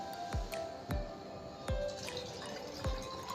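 Coconut water trickles slowly into a pot, with soft drips and splashes recurring every half second or so against a quiet background hiss.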